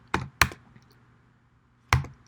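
Three sharp computer keyboard keypresses sound up close, two in quick succession and then a lone one after a pause, with quiet between them.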